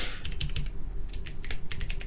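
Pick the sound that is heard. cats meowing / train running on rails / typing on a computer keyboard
typing on a computer keyboard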